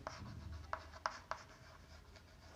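Chalk or marker writing numbers on a classroom board: faint rubbing strokes with a few sharp taps, quiet and close, no speech.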